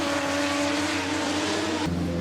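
A drift car sits on the start line revving hard with anti-lag popping, a loud steady engine roar that drops sharply near the end.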